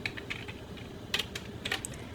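Keys tapped on a computer keyboard while entering an Excel formula, a few light clicks in short bursts, fairly close and soft, with no talking.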